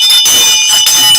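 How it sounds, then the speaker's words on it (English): A loud, bright bell rings in the ring at a conference show, with rapid metallic strikes that sound like a buzzing alarm, ringing close and continuously for about a second. "I'm getting to love this bell so much"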